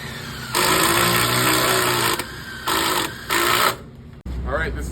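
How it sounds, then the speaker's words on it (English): An impact wrench drives screws through wood into a metal plate on a wood floor framing job, firing in three loud bursts of buzzing hammering separated by short pauses, with a voice speaking afterward. "his impact wrench will run those screws through the wood into that metal plate"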